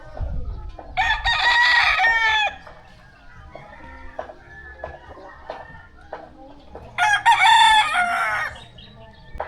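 Chickens at a coop, roosters crowing loudly twice amid steady clucking and farmyard calls, with a low hum underneath.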